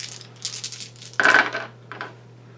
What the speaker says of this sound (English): So I'm going to roll 5 dice, just to make sure it goes off.